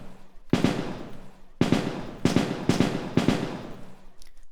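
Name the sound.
stunning attack effect in video game ToME: Embers of Rage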